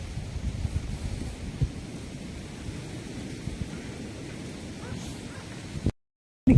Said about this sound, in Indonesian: Ini berangin banget loh kondisinya nih sekarang, lihat tuh, berangin banget ya, super dingin.